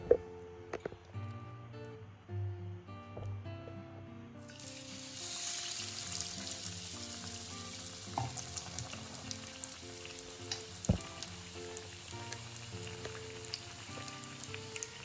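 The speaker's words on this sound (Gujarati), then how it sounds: "પેટીસને આપણે બંને બાજુ થોડી ફ્રાય કરી લઈશું." Bread patties coated in gram flour batter deep frying in hot oil, a steady loud sizzle with crackling that rises after a few seconds and holds, with occasional clinks.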